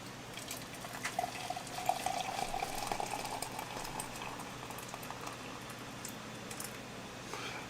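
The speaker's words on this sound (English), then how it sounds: "let's start this going by putting some water in here" Hot water pours steadily into a container for a physics demonstration of changing states of matter, a continuous soft liquid rush with faint bubbling, close and moderately quiet, with no talking.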